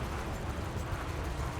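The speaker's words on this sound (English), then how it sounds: "let's start firing the multi-cannon" Rapid multi-cannon fire from a Vulture ship in Elite Dangerous, a dense continuous rumbling barrage with no gaps, loud and close.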